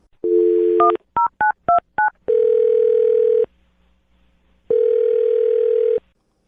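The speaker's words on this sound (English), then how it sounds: "I'm dialing his phone number right now." A telephone line gives a short steady tone, then a quick run of six touch-tone dialing beeps. Two long, loud ringing tones follow with a silent pause between them, with no talking.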